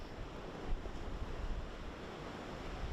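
Ocean swell surges against the coast as a continuous broad roar of surf with rushing wind noise. A heavier wash swells briefly partway through.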